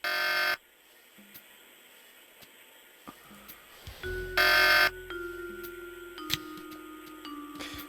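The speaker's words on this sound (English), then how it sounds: "The alarm is still sounding." An alarm in the 1996 adventure game Tex Murphy: Pandora Directive blares in loud buzzing bursts over a low game hum, with tonal electronic beeps and drones layered in between.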